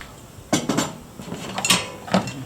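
Metal camping pots clank and rattle against a gas camp stove, a few sharp, close metallic knocks and scrapes in quick succession, no voices.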